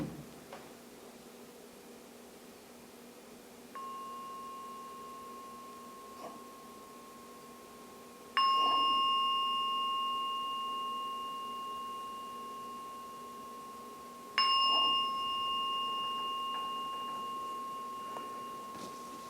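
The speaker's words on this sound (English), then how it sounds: "So I'll ring the gong 3 times." A meditation gong is struck three times to close a meditation session, each ring a sustained, steady tone fading slowly over several seconds, with a soft rustle in a quiet room.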